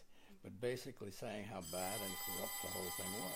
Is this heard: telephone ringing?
yes